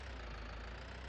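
A tractor engine in the Farming Simulator 19 video game, Alpine Farming expansion, runs as a steady, even low drone at an idle-like pace, with no voices over it.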